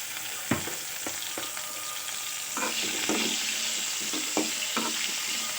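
Ivy gourd and green chillies frying in a pan, a steady close sizzle with a few clicks and knocks of stirring, no voices.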